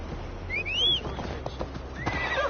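Horse in Assassin's Creed Valhalla gives a rising, falling whinny over steady clip-clopping hooves, followed by a second fainter neigh near the end.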